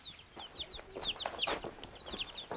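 Young chicks a few weeks old peep and chirp continuously inside a warm greenhouse, many overlapping high cheeps from a small flock over a soft background hum.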